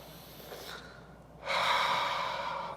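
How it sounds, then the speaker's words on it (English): Slow, deep breathing during a guided relaxation exercise: a long, soft exhale fades out, then a fuller, steady breath follows, close and airy, with no talking. "Let's start the breath."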